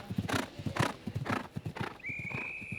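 Horse galloping on the cross country course at the Barbury eventing competition, rapid rhythmic hoofbeats pounding the turf close by, joined by a thin whistle-like tone partway through.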